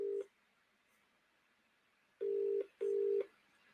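A telephone ringing while the caller waits for an answer: three short electronic ring tones, the first at the start and then two close together after a pause, with no voices.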